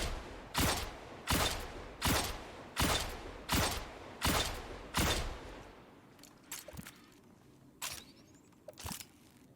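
The Sturm exotic hand cannon in Destiny 2 fires in a steady run of seven loud, evenly spaced shots with ringing tails, then a few fainter, scattered shots and mechanical clicks follow.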